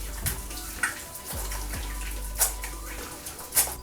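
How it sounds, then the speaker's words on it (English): Tap water runs steadily into a sink while a face is washed, a constant rushing stream close by with occasional splashes and small knocks, and no talk. "I'm gonna just wash my face real quick."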